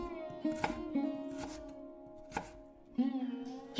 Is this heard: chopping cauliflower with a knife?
yes